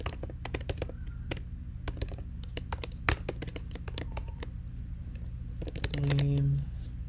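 Keys clatter on a computer keyboard as code is written, bursts of quick close taps with short pauses and a brief louder cluster near the end, no speech over it.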